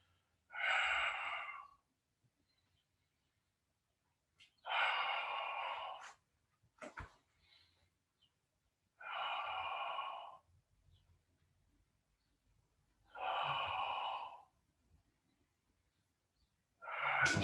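Deep, audible exhalations during a live Pilates leg-extension exercise, four long breaths spaced evenly about every four seconds with near-silence between them, close and alone.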